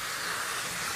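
Sargent steam cleaner releasing a steady hiss of steam, a bright continuous breathy rush, close and unbroken for a moment.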